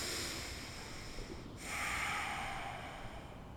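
Slow, deep breathing during a home yoga shoulder stretch, a long close airy exhale followed by a fuller, louder breath through the nose, steady and unhurried with no talking.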